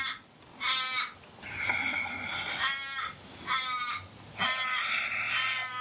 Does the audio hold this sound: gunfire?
no